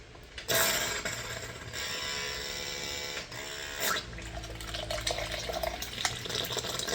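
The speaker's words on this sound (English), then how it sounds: "That's sucking a lot of water" A small pump draws water out of the ballast tank of an RC submarine, producing a steady liquid rush and churn that runs for several seconds and then shifts into a gurgling, uneven flow near the end.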